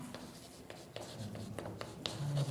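Pen or pencil scratching across paper during a class 10 maths lesson, a soft irregular series of short strokes, close and quiet against low room noise.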